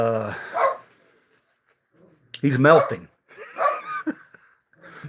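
A pet dog barking and whimpering close by indoors, a few short yelps and whines in separate bursts with gaps between, mixed with a person speaking briefly.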